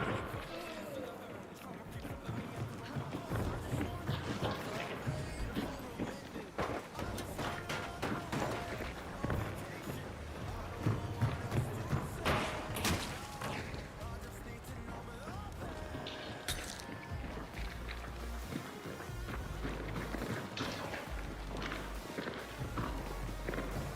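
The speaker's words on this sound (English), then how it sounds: "I feel like I'm hearing so many footsteps and I don't see shit." Footsteps in the game Hunt: Showdown 1896 run under dense, busy game noise, with rapid steps and thuds mixed into a constant clatter of sound.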